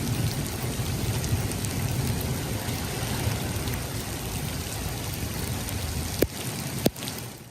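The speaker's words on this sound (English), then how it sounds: "you can see the hail coming down in the parking lot" Pea-sized hail pours steadily onto a parking lot pavement in central Phoenix during a monsoon storm, a dense, even hiss of impacts with a couple of sharper knocks near the end.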